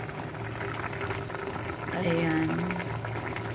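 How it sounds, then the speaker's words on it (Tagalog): Salmon paksiw broth boils in a pot with a steady bubbling simmer, while a voice talks briefly over it. "Ayan, kumulo na guys."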